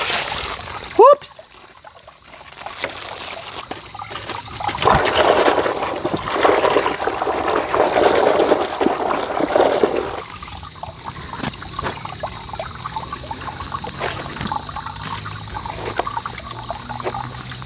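Water splashes and trickles as dirty clothes are washed by hand and left to soak, a steady sloshing stretch in the middle with lighter drips around it, a voice talking over parts of it.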